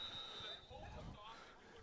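Electronic buzzer from a lacrosse referee's belt timer at a boys high school game, a steady high tone for about half a second over crowd noise and voices.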